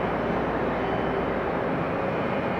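Big airliner coming in to land on runway 08 left at Atlanta Hartsfield-Jackson airport, a steady loud broadband engine roar with no break, heard from nearby.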